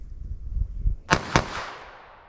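Two sharp, close gunshots from a .22 Long Rifle handgun, fired in quick succession after low rumbling, each crack ringing briefly before fading.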